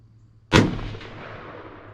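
One sharp, loud rifle shot fired while sighting in a scope, cracking at close range and trailing off into a fading echo, with no other sounds around it.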